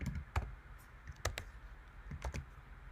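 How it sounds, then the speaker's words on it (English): Typing on a computer keyboard during a programming session: a few quiet, separate clusters of key clicks with short pauses between them, close by in a quiet room. "So we're going to be typing in my byte twice."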